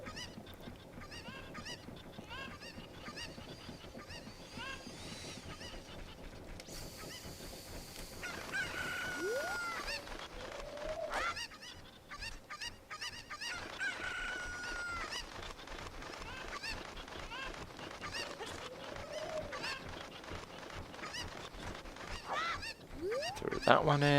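Chicken clucks and squawks come from The Legend of Zelda: Ocarina of Time as a chicken is carried up a ladder. Short bird calls repeat over a busy, steady layer of game sound.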